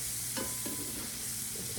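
Pancetta and onions cook in a pan, giving a soft, steady sizzle with a couple of faint stirring clicks, quiet and without talk.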